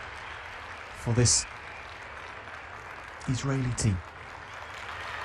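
A crowd applauds an Israeli rhythmic gymnastics team after a ribbons-and-balls final at the Palaio Faliro World Cup, a steady, moderately distant wash of clapping running under brief commentary.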